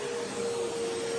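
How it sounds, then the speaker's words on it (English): A vacuum hums steadily on carpet during a professional carpet cleaning job, with a constant, close droning whine and no pauses. "Simple vacuum."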